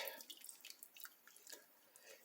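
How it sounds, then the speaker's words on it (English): Chicken stock drips and dribbles off spent bones through a strainer into a bowl, making faint, close, irregular little patters and trickles with no talk. "any of the stock coming off of the bones will drip down into the bowl. You can hear it dribbling in."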